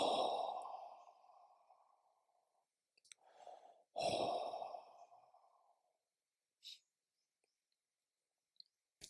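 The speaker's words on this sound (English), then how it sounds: "Take 3 deep breaths." Two long, deep breaths drawn in and released slowly during a guided meditation session in a retreat setting, each swelling and fading over a couple of seconds, with faint clicks and a short breath in between and quiet after.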